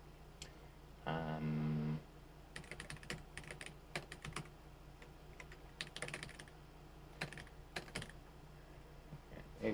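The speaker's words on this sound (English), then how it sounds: "Maybe humans wouldn't be able to figure out what I'm typing" Someone types on a computer keyboard nearby, with irregular bursts of quiet key clicks spread across the whole stretch and a brief low hum early on.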